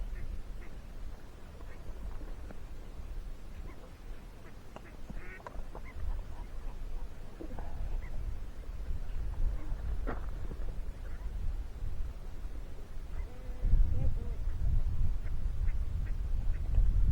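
Ducks quack on and off across a quiet lakeside wildlife refuge, some calls near and some farther off, over a low steady rumble of wind or motion.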